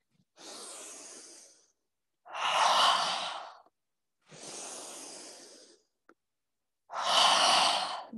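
Four slow, deliberate breaths during a yoga session, alternating softer inhales with louder, airy exhales through the mouth, each lasting about two seconds with quiet pauses between, close and clear with no talking.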